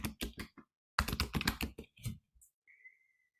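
Bursts of quick keystrokes on a computer keyboard, close and fairly quiet, in two runs separated by a short pause, followed by a faint whistle-like tone.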